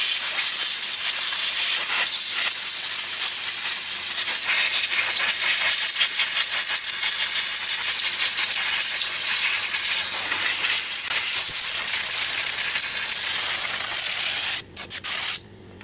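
Steady, loud spray hiss of carburetor cleaner on a Yamaha R15 motorcycle with the fuel tank opened, running almost continuously and ending in a few short bursts.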